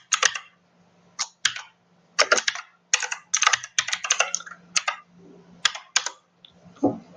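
Typing on a computer keyboard while writing JavaScript code: bursts of close, crisp key clicks in irregular clusters with short pauses between words, no talk over them.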